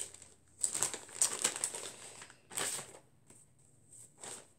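Paper crinkling and rustling as an envelope of cross-stitch charts is handled, close and crisp, in several short bursts with quiet gaps between them.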